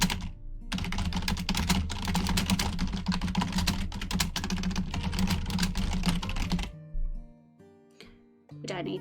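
Rapid, steady typing on a computer keyboard runs continuously and close for several seconds, then stops, leaving a few quieter sounds at the end.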